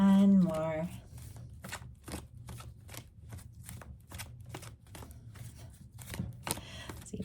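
Tarot cards are shuffled by hand in rapid papery riffles and slaps, a steady close rhythm after a brief voice at the start.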